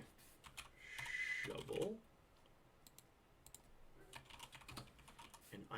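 Quick bursts of computer keyboard typing, with irregular key clicks coming and going at close range under a brief bit of speech.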